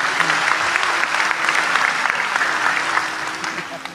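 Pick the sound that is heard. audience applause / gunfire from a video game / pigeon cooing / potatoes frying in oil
audience applause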